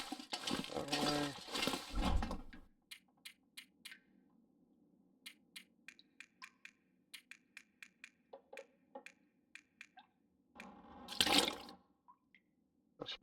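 Water drips in The Long Dark survival game, sparse clear plinks spread irregularly over several seconds against a faint low hum, with louder splashing or gushing bursts at the start and near the end.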